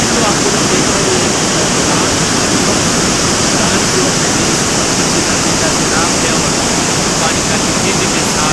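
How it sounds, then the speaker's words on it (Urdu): The swollen Swat River in flood, its water rushing and falling fast. A loud, steady, broadband roar fills the whole stretch with no letup, close and overwhelming, with no voices audible above it. "پانی کا تیزی کے ساتھ"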